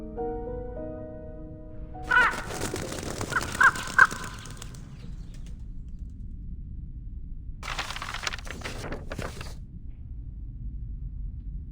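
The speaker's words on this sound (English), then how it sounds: "A crow?" A crow caws several times, loud and fairly close, in a short burst, then falls silent before another stretch of harsh calling follows later.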